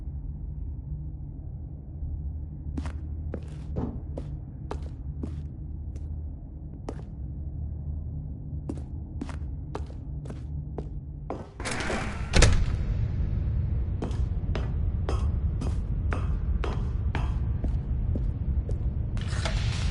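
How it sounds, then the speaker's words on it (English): Footsteps tap at an even pace through a spooky corridor in The Stanley Parable, then a large door opens with a heavy thud and rumble before the steps continue into a huge room. "Stanley walked straight ahead through the large door that read Mind Control Facility"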